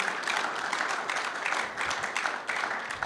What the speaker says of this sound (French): We clap for the Lord.